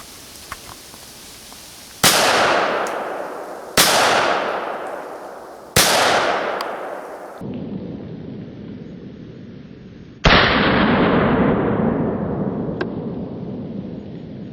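Four loud handgun shots ring out one after another at a target about five yards away, each with a sharp crack and a long decaying echo, fired from a Smith & Wesson 686+ .357 Magnum, Sig P365 9mm, Walther WMP .22 Magnum or Taurus TX 22.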